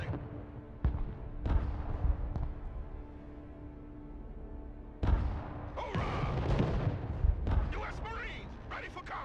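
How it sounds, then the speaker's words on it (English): Distant, irregular artillery booms from the Broken Arrow real-time strategy game, with a few dull thumps early on and a louder rumbling burst partway through, all under continuous talk. "Very random artillery fire from over there."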